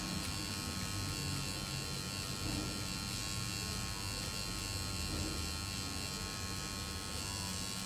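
A micropigmentation machine working its needle into skin, a steady close electric buzz that drones on without a break and with no talk over it.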